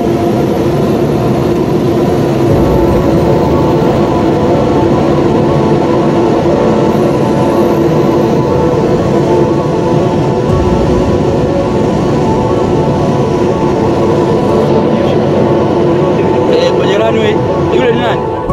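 Skyleader 600 light aircraft on landing approach, a loud steady engine drone heard from inside the cabin, continuous and unbroken throughout with little change in pitch.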